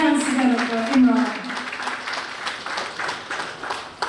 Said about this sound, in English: Brothers and sisters, put your hands together for Imran.